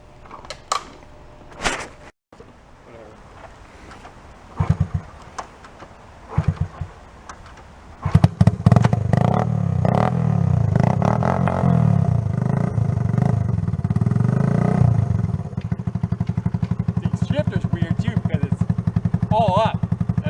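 A barn-find Honda Trail 90 motorcycle rides off and shifts up through its gears, its small engine buzzing steadily louder and rising and falling in pitch after a few scattered clicks and bumps, with a voice speaking at the start.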